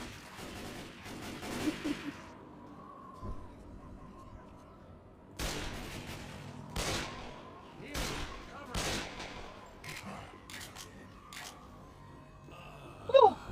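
Gunfire in the video game Left 4 Dead 2: scattered sharp shots and short rapid bursts, some close and loud, separated by quieter gaps, with a voice briefly talking.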